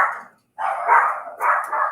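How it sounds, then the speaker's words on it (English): Several dogs bark in a kitchen during home baking, a short burst followed by a pause and then a longer run of close, loud barking. "get ready for the dogs to bark"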